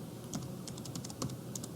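Rapid typing on a computer keyboard: light, irregular clicks in short bursts, close and fairly quiet, with no voices.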